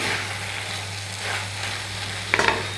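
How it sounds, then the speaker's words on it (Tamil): Chettinad kara chutney ingredients with chili powder and coriander leaves sauté in a hot pan, a steady soft sizzle with brief spatula scrapes near the end and no talk. "இது எல்லாத்தையும் சேர்த்துட்டு மறுபடியும் வந்து கொஞ்சம் நேரம் வதக்கலாம்."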